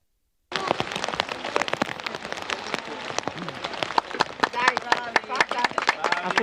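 Rain patters steadily on surfaces at an outdoor ceremony laying the foundation stone of a middle school in Fogliano Redipuglia, with dense irregular drops and a few louder taps after an abrupt start.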